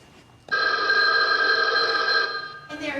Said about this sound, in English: Mary, come get the phone.